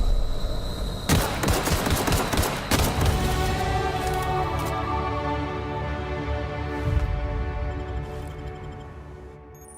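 Heavy gunfire from The Outer Worlds video game, loud rapid bursts of shots stacked into a dense fusillade over several seconds, then fading into a sustained rumbling tail.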